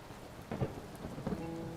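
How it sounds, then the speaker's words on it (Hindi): Steady rain falls with low rumbles of thunder rolling through, a soft wash of drops with a couple of duller swells, fairly faint and distant, no voices. "गरज चमक के साथ बारिश हो रही है।"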